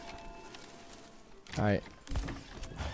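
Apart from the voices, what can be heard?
horse hooves and neigh in the video game Manor Lords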